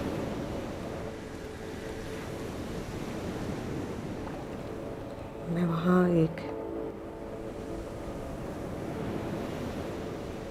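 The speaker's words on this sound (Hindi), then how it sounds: "समुद्र की लहरें आ रही हैं।" Sea waves wash ashore near a cave and a small lotus pond, making a constant soft rushing surf under gusty background noise. Someone speaks briefly over the water.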